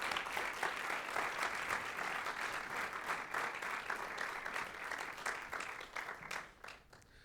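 An audience applauds to welcome a speaker to the stage, a steady, even wash of many hands clapping that holds for several seconds and then begins to thin out at the end.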